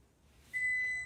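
A kitchen timer sounds a single steady high electronic beep that starts abruptly and holds, close and fairly loud against a quiet room with no talk.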